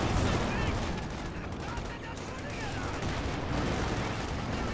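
Gunfire on a headquarters building in the Company of Heroes 2 strategy game, a dense, continuous wash of shots and rumbling impacts holding steady and loud through the whole stretch, with no clear gaps between bursts.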